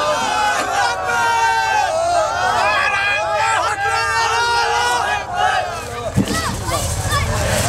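Crowd shouting slogans with raised hands, many loud voices calling out together in rising, overlapping bursts, close and forceful.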